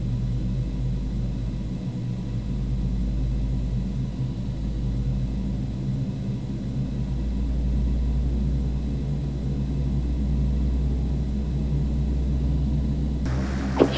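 Carenado Fokker 50 turboprop rolling for takeoff in a flight simulator, a steady low engine rumble and drone that swells slightly partway through, with a short burst of higher noise at the very end.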